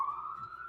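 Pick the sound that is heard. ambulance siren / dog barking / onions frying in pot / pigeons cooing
ambulance siren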